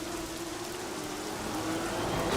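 Steady rain hisses in the racing game Assetto Corsa during an F2 British Grand Prix session, a continuous, even wash of falling drops with a faint low engine hum beneath.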